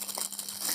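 Aluminium foil crinkling and rustling as a mobile phone is pulled out of its wrapping, a short burst of close, continuous crackle with no talk.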